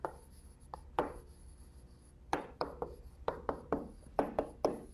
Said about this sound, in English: so we can write down